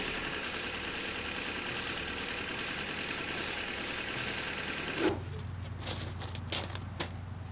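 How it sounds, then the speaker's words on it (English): A school bus engine idles steadily with a low, even rumble and a constant mechanical hum, close by, shifting to a quieter tone partway through with a few light clanks. "But see how it's like idling at the like a nice speed?"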